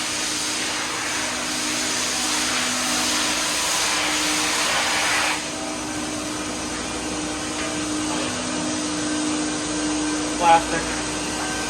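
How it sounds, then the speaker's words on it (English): A vacuum router machining a plastic housing gives off a steady, loud broadband whoosh and hum that drops slightly partway through, with a person speaking briefly over the noise. "We got a vacuum router over there."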